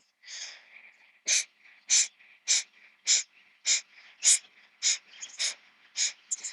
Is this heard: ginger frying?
no